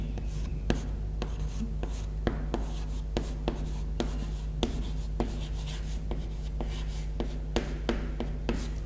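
A lecturer writes on a board in quick, repeated strokes and taps, a steady stream of short scratches over a constant low hum.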